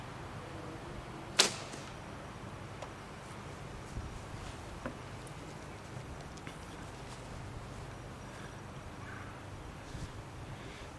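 A single arrow loosed from a bow by finger release, a sharp snap and whoosh early on, followed by faint scattered ticks and outdoor quiet.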